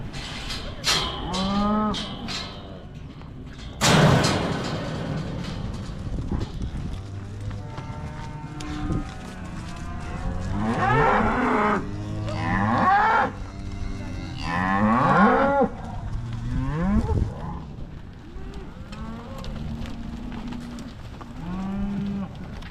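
Beef cows recently separated from their weaned calves moo repeatedly in a pen, several close and loud, long drawn calls overlapping, with some shuffling of hooves between them.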